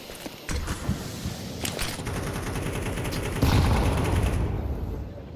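Suppressed M4 rifle fire in Counter-Strike 2 during a professional esports quarterfinal, a dense run of muffled shots and clattering mechanisms over busy game background, loud and continuous with no break.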